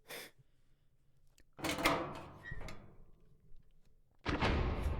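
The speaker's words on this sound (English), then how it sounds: "I don't think a mausoleum door sounds like that" A mausoleum door in the video game Heartworm opens with a heavy, grinding scrape and thunk, followed by a loud rushing burst at the end, close and otherwise quiet.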